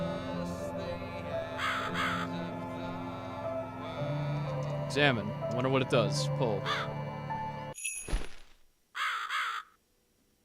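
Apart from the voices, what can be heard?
crow cawing in video game The Cat Lady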